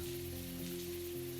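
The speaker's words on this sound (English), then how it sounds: "I'm used to the rain." Rain falls as a steady, soft, hissing wash with a low droning hum beneath it. It is faint and unbroken, with no distinct drops standing out.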